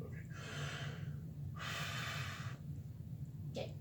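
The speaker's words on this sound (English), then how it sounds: "take in a deep breath, blow it out, and then hold your breath" A patient draws in a deep, audible breath and then blows it out, two broad breathy rushes of air close to the listener, followed by a brief faint third breath near the end.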